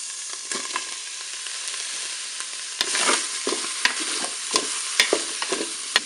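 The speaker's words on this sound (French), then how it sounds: "Le préchauffage est terminé, je vais faire revenir le tofu." Tofu and button mushrooms fry in a Cookeo multicooker, a close, steady hissing sizzle with intermittent scraping and clacking of a spatula as the pieces are stirred, and no voices.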